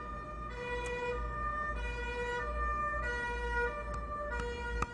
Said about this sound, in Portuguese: tão bom quando o carro de bombeiro passa, né?